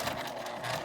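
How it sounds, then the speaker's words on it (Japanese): A sewing machine edge-stitching fabric for a zippered toilet paper case, a brief steady mechanical whirr heard close and alone. "T カンは上に倒してこのように開いて端ミシンをかけます。"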